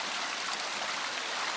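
A babbling brook running through green ferns just below a campsite on a forest track: a steady, even rush of flowing water with no talk.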